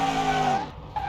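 Simulated car engine in Car Mechanic Simulator 2021 climbing to a steady high-pitched rev, holding for about half a second, then dropping away before a brief second blip; loud and close, with no talk.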